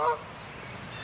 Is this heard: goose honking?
yes